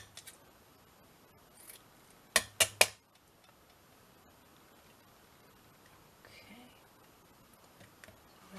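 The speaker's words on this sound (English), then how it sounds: "I'm going to cut this in half because I've just got enough of this lovely lace to do the front and the back" Scissors cutting lace in half: three quick, crisp snips in a row, close and distinct, with faint handling rustles before and after in an otherwise quiet room.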